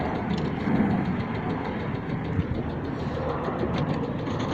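A sailboat's inboard engine running in forward gear while maneuvering in a marina, a loud, steady rumbling chug with a dense low drone, continuous and close throughout, no voices.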